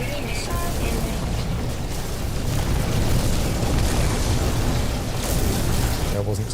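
A missile explosion in No Man's Sky: a deep, sustained booming rumble that fills the moment, loud and heavy with low-end roar.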